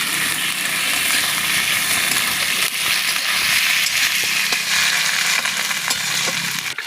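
Chopped tomatoes frying in a pan for Gobindobhog rice khichuri, a loud, constant sizzle with faint stirring scrapes close up and no talking.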